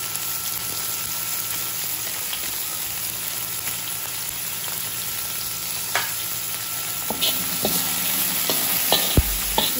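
Annatto (atsuwete) sizzling in a hot pan for a beef mechado dish, a loud continuous frying hiss with occasional crackles and stirring clinks, steady throughout and growing slightly busier toward the end.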